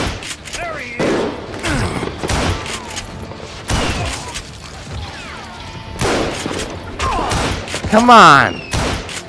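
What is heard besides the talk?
gunfire from old guns in the video game Call of Juarez: Gunslinger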